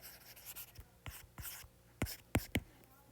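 Pen strokes scratch across paper in a few quick, separate bursts, fairly close and crisp, with quiet pauses between them and no talking.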